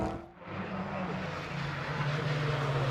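A Caterham race car pulls away on the track at Daytona during a classic sports car race, its engine a steady, moderately distant drone that swells slightly as it goes.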